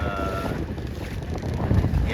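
Steady wind rushing across the microphone during a sailboat race of 29er, C420 and FJ skiff dinghies in about 12 knots, a constant roar with water and hull noise underneath and a faint voice at times.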